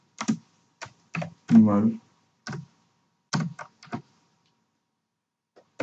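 Keys clatter on a computer keyboard as C code is typed, short bursts of close taps spaced irregularly with pauses between them, and a voice briefly speaks among them.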